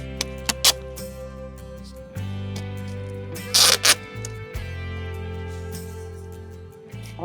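Flashing tape pulled and pressed across the head of a window on a backyard studio, giving a few short zipper-like rips, one sharp pair in the middle, over a steady low hum.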